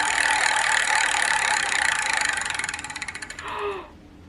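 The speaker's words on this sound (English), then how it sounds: "Spin the wheel, shall we?" A spinner wheel whirs with rapid ratcheting clicks that slow and space out as it loses speed, then stop, followed by a brief rustle; no voices.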